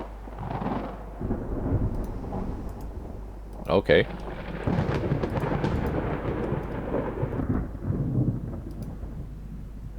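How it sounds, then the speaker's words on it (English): A thunderstorm rolls through a 1954 naval battle game, with rain hissing steadily and thunder rumbling throughout, plus a sharp loud crack near the middle; someone speaks briefly over it. "And it's a storm."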